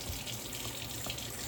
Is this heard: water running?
yes